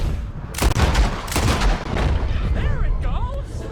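Gunfire in the Red Dead Redemption 2 video game, with a couple of loud, booming shots early on ringing over a steady background, followed by a person talking.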